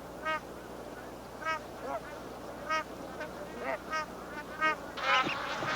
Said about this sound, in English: Magpie geese gather to breed